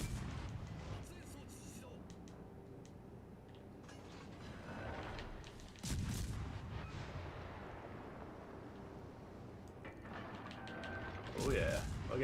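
Ship guns firing in World of Warships Legends, heavy booming salvos with a big blast near the middle and another burst toward the end, under constant rumbling game noise and mechanical clatter.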